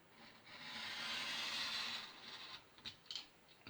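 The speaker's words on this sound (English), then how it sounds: "press down firmly on the saw or whatever you're using" A saw or cutter pressed firmly through card while cutting a double picture mount, a steady rasping stroke that swells and fades, then a few short scraping bursts; close and alone, with no talking.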